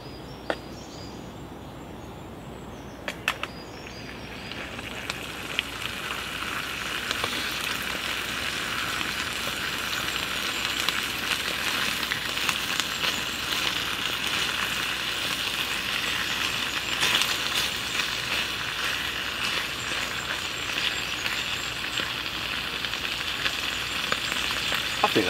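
Bacon sizzling and frying in a pan at an outdoor camp, a steady broadband crackle that swells after a few seconds and holds loud and continuous with occasional pops.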